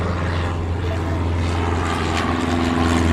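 Propeller airplane engine drone from the video game Airport Madness, a steady, loud, continuous hum with a low throbbing tone that holds evenly throughout.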